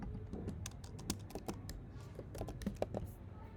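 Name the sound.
typing on a computer keyboard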